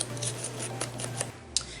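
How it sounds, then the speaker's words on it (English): Paper scraps for paper flowers having their edges distressed, a run of short scraping, rasping strokes in quick succession, close and fairly quiet, followed by a single sharper scrape. "So I'm going to distress all of these"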